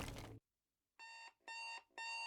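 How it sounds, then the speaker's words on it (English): A blaring alarm clock rings in three loud, evenly spaced electronic bursts, alone after a short burst of noise and a pause. "The splitting noise of his blaring alarm clock is blinding"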